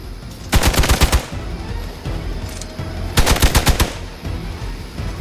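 Rapid machine-gun bursts from Marvel's Midnight Suns, two loud strings of fast, evenly spaced shots about three seconds apart over steady game ambience.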